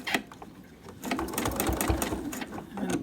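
A sewing machine stitches quilt binding onto the back side of a quilt, a brief pause giving way to a steady, close, rapid mechanical whir and needle chatter that runs continuously.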